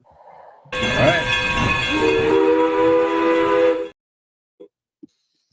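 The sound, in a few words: train sound effect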